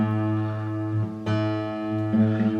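A single guitar note at the fifth fret of the sixth string sustains, then an open string is plucked and rings alongside it. Both notes are close, steady and unaccompanied, heard during a tuning check.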